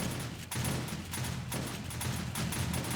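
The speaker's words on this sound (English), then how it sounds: "you'd think that I had 8 shotgun turrets going" Two shotgun turrets fire during a horde night in 7 Days to Die Alpha 16, sending rapid repeated blasts in a steady rhythm at moderate volume.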